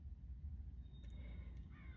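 A crow caws a few times, faint and somewhat distant, over a low steady rumble of background noise.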